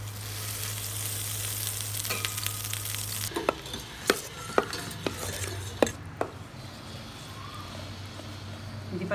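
Dal and vermicelli frying in a pan for palm fruit payasam, a steady sizzle with a low hum at first, then several sharp clinks of a utensil against the pan over the frying.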